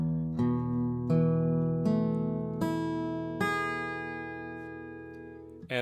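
Acoustic guitar open strings in an alternate tuning with a capo on the fourth fret, strummed one by one in five clear, ringing notes that sustain and slowly decay, close and alone.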